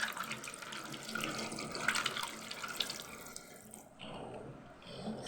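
Stones for a fish tank are rinsed and scrubbed under a running tap, making a steady rushing, splashing water noise close by. The flow softens and changes near the end.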